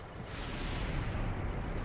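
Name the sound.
explosion in video game Command & Conquer Red Alert 3 Uprising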